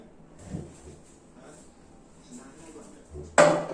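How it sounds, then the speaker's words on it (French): An electric hotplate is shifted across a kitchen counter: faint shuffling and quiet voice murmurs, then one sharp, loud metallic clunk near the end. "je vais déplacer la plaque électrique"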